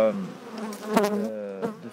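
Honey bees buzz at a large open beehive, a close, dense droning hum with a few louder swells as individual bees pass near.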